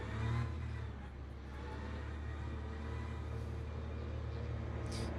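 A GT3 race car engine in the video game Le Mans Ultimate at the start of an LMGT3 race, a steady droning rumble held at even revs with a short surge at the beginning, loud and unbroken, no talking.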